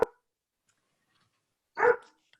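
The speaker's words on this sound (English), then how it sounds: "Aw, it's a dog." A dog barks twice, one short loud bark at the start and another after a pause of nearly two seconds, each sharp and close, with silence between.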